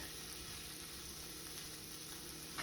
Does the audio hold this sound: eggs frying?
yes